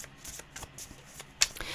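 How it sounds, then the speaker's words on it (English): A tarot card deck is shuffled in short, soft riffling bursts with a few sharper card slaps, close and quiet, with no talk. "I'm really struggling to shuffle this deck"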